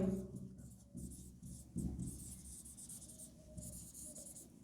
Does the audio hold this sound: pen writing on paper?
yes